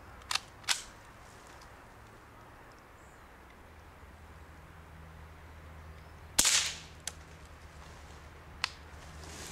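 A suppressed HMR rifle fires a single round outdoors during small game hunting, a sharp close crack standing alone against quiet background, followed later by fainter clicks and a softer snap.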